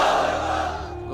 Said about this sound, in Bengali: সবাই মিলে তিনটা পড়েন লিল্লাহি তাকবীর।